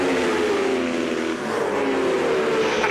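A Suzuki superbike races at Thruxton circuit in British Superbike Championship competition, its engine a loud, sustained high-revving whine that shifts in pitch as it passes close by.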